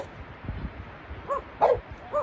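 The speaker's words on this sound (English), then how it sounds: "Kobe is just going crazy. He just wants to run and play with the other dogs" Kobe the dog gives a few short, mid-distance barks and yips outdoors while eager to run with other dogs, the bursts spaced irregularly over faint background noise.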